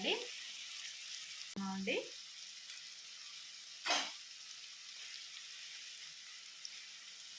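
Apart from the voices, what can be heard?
onions frying in a pan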